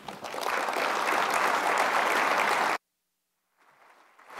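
Lecture-hall audience applause greets speaker Rip Rapson at a talk on lessons from Detroit. It is a dense, steady wash of clapping that cuts off abruptly, and after a brief silence fainter sound returns.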